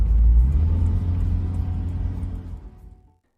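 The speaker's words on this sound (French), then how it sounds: "je regarde un buggy dépasser un buggy" Buggy engines roar as one buggy overtakes another, a loud low rumble that swells at first and then slowly fades away over a few seconds before ending abruptly.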